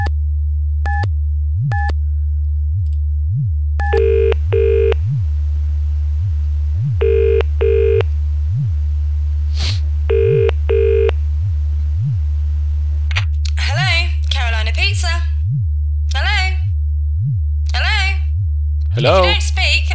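Telephone handset in the Dark Fall video game dialing a pizza place: a string of short keypad tones, then repeated ringing over a steady low hum, followed by a voice answering on the line.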